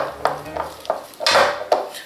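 Pecan pie filling with salt and vanilla extract stirred in a bowl, giving a few sharp utensil clinks and scrapes against the bowl at close range, with one longer scraping swirl midway.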